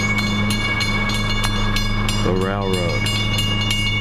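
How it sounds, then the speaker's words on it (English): A fast train approaches on a railroad, making a steady, loud, continuous rumble with a brief rising and falling tonal sweep partway through. A voice speaks over it. "Fast train is coming, it's approaching."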